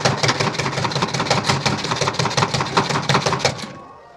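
Onion chopped in a lidded, locked food chopper, a fast steady train of loud rattling chops lasting nearly four seconds before stopping abruptly.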